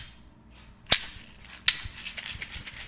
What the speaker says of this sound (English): the flat part of the shaker allows it to have kind of a louder hit